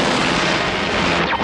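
A sustained roar of cartoon gunfire from the 1986 Inhumanoids animated series, a dense, loud barrage of shots blending into a continuous rumble for a brief moment.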